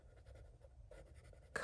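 A Winsor & Newton Studio Collection artist pencil strokes lightly across paper, a soft, quiet scratching in short repeated bursts, close and alone.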